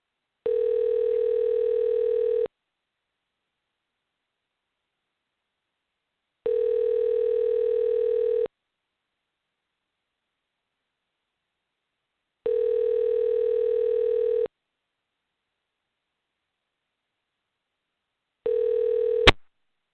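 A telephone call to a 410 number on a radio show rings back at the caller in three evenly spaced two-second tones, and a fourth ring is cut short by a sharp click as the line picks up.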